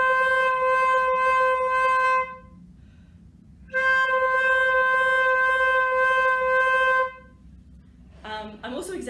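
A flute sustains a C note with a gentle pulsing vibrato. It plays two long tones separated by a short silence, and a voice speaks briefly at the end.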